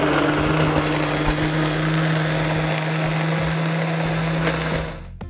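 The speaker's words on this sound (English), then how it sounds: "The blender that I'm using, it's a heavy-duty Vitamix machine." A heavy-duty Vitamix blender whirs steadily as it blends a shake, a loud, continuous motor drone with a sustained low hum, running alone before cutting off abruptly near the end.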